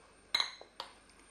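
A metal pot lid goes onto a pan with a sharp ringing clank, a small rattle as it settles, and a second lighter clink a moment later, close by and brief, with no voices.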